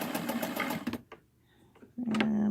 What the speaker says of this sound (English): So I'm going to go ahead and zigzag those now